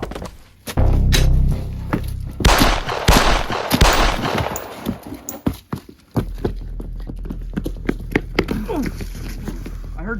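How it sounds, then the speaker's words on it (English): Several sharp gunshots crack close by in a tense scene, scattered among heavy thumps, rustling movement and shouting voices, with loud bursts early on and quicker, lighter pops toward the end. "I heard shots."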